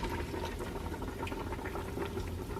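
A pot of chicken drumsticks and collard greens simmers on the stove, a steady bubbling and gurgling with small irregular pops over a constant low hiss, heard close and without any talking.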